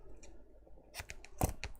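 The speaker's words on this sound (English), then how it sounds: "I have to use these scissors here. They're the Teflon coated ones." Teflon coated scissors snip through red double-sided tape in a quiet room, a few close, crisp cuts in a quick cluster after a faint opening snip.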